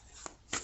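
Two quick papery swishes of tarot cards slid from a deck, soft and close in a quiet room, about a quarter second apart.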